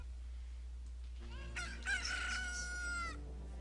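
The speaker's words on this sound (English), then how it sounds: "And a chicken hatched from the egg" A Cucco chicken hatching in Zelda: Ocarina of Time, heard as a short game jingle followed by a bright, synthesized rooster crow over a steady low hum.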